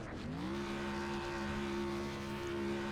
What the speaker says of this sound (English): he's revving the heck out of that thing, trying to get it set